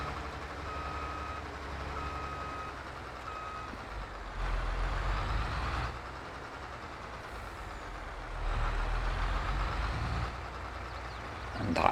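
A harvester in Farming Simulator 22 drones steadily as it is loaded onto a trailer, with a rhythmic reversing beep sounding early on over the rumbling engine.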